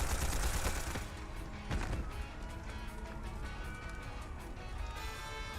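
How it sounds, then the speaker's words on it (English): A musket, an old antique firearm, fires in the video game Octopath Traveler 2, giving a loud burst of blasts and crashing impacts at the start. A second hit follows, then a busy low battle rumble carries on with music. "he's firing a musket of all things"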